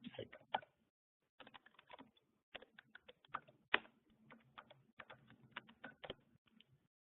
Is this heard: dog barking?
no